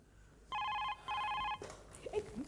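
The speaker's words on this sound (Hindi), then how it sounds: "मामा जी का फोन आ रहा है" A telephone rings in two clear electronic bursts, close and fairly loud, then stops as a person begins speaking.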